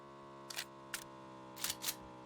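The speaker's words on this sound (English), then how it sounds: "Need to load up my Tommy gun here" Weapon reload in the video game PUBG for a Tommy gun: four short mechanical clicks and clacks in uneven succession, close and crisp over a steady low game hum.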